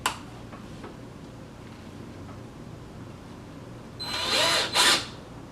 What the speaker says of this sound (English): Take it, put it in a screwdriver if you have it.